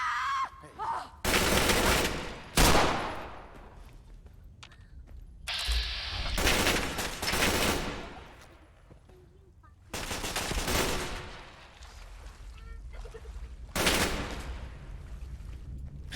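Bursts of gunfire in Fallout 4 come in several loud clusters separated by quieter stretches, sharp rapid shots ringing out with faint voices between them.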